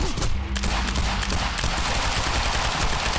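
Dense, continuous gunfire from the video game Quantum Break, rapid automatic bursts and shots layered into a loud, sustained barrage that runs the whole time with no talk.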